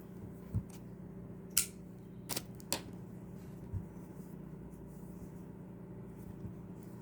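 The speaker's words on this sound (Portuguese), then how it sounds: "aqui eu vou cortar o fio" Scissors snip crochet yarn in a few sharp, quiet cuts, one near the start and a couple grouped in the middle, close by against a low steady hum.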